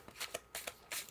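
A Field Tarot card deck riffle shuffled in quiet, three quick fluttering bursts of cards about half a second apart, each ending in a soft snap as they fall together.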